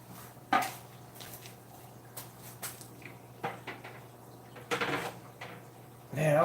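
Tank lids being set back in place while preparing for an auction: a scattered series of light plastic knocks and clacks at close range, with a louder rattling bump at the end and some faint talk in the background.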